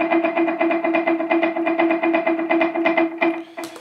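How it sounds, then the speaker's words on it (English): Electric guitar holding an E note at the ninth fret of the G string with delay on and reverb off, sounding as a steady run of repeating echoed plucks with a brief scrape near the end. "but with the delay on, it sounds like this."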